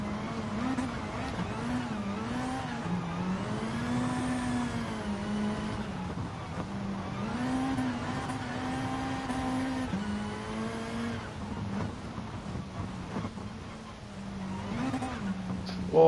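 A rally car engine revs and shifts through gears on a course in GT Sport, the loud, steady drone rising and falling continuously as the car accelerates and brakes through corners.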